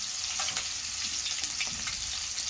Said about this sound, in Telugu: ఇలా కొద్దిసేపు ఫ్రై అయిన తర్వాత